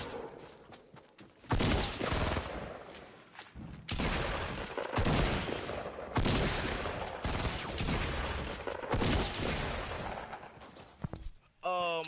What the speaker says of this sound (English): My shotgun did 6 damage.